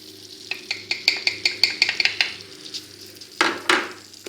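Prunes go into butter melting in a saucepan, giving a series of quick soft clatters and stirring knocks in a steady rhythm, then a pair of louder scraping, sizzling strokes near the end, close by with no talk.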